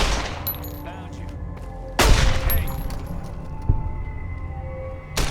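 Gunfire in Fallout New Vegas: a few sharp, loud shots crack out at intervals, each followed by ringing tails, over a steady low game ambience with other game sounds mixed in.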